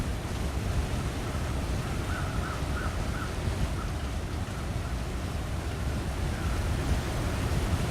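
A waterfall in the video game The Long Dark gives a constant broad rushing wash, steady and fairly soft throughout, with a few faint higher chirps briefly over it.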